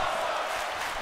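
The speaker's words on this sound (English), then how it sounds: "Crowd chanting" A wrestling arena crowd chanting and roaring in unison, a dense, loud, continuous wash of many voices.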